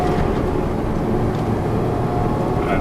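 A Porsche accelerating up through the gears toward fourth on a race track, its engine a loud, steady, close drone that holds without a break for the whole stretch.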